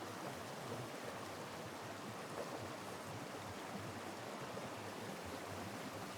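Steady rushing of a stream spilling over a small waterfall, a constant broadband wash of moving water with no voices.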